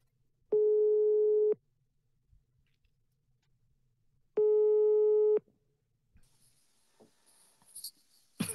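Two long, steady telephone ringback tones sound while a call is placed to Austria, each about a second long with a pause between, followed by faint clicking and rustling near the phone.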